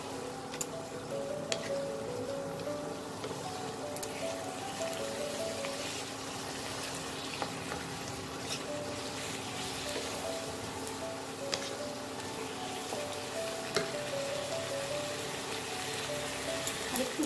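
Rice flour stirred into spinach in a hot frying pan for Bengali-style palong saag bhaja, a steady soft sizzle with faint scraping throughout and no talking.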